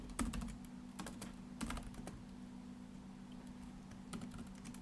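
Fingers tap on a laptop keyboard in quick irregular bursts with pauses between, close and fairly quiet, no voices.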